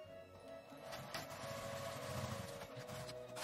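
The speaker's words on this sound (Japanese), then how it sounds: "端ミシンをかけます" A sewing machine runs steadily, edge-stitching a zipper pouch with a continuous whirring hum and light mechanical ticking that builds slightly toward the end.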